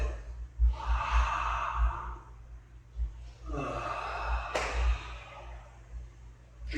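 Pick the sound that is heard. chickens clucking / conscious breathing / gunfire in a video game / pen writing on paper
conscious breathing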